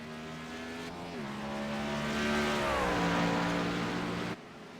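Race cars at Watkins Glen in a video game, engines droning and whining with a shifting pitch as they run close and loud, a continuous roar that swells then drops off abruptly near the end.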